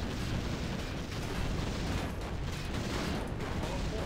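Naval battery artillery fire in Warcraft 3 during an 8v8 match, heard as a dense, continuous rumble of booming shots and explosions blending into a steady roar at moderate level.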